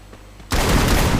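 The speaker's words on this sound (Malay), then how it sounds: "Tembakan dilakukan oleh Shani" Sustained burst of gunfire in the battle royale game Free Fire during a GDLFF Season 1 esports match, bursting in loud and dense after half a second of near silence and holding steady to the end.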